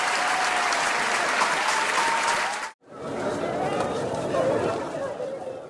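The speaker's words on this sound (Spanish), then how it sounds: "Un aplauso" A live podcast audience bursts into loud, sustained applause mixed with some chatter, cuts off briefly, then resumes just as strongly and eases toward the end.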